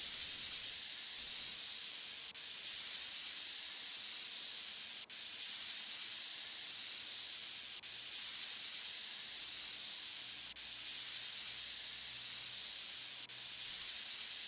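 Compressed air blasting dust out of a PC case in the PC Building Simulator video game: a steady, loud high-pitched hiss sustained throughout, with a few faint clicks along the way.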